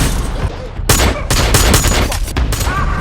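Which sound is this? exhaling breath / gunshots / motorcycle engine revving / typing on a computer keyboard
gunshots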